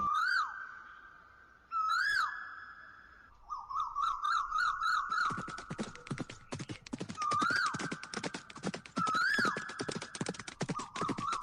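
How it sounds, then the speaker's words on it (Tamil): Horses gallop along mountain ridges in a dramatized story scene, with rapid clip-clop hoofbeats building into a dense, steady drumming, joined by repeated loud neighs and whinnies rising over the run. "அகதமலையினுடைய முகடுகள்ல குதிரைகள் பாஞ்சு போய்கிட்டு இருந்துச்சு"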